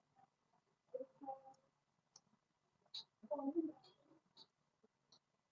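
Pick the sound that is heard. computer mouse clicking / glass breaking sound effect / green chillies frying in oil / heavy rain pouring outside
computer mouse clicking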